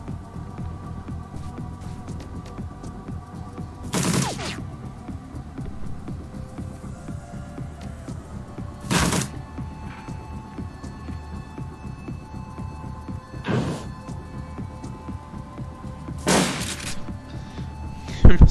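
Shotgun blasts from the turn-based game Shadowrun: Dragonfall boom at spaced intervals, four or five separate shots over a steady low hum of background music.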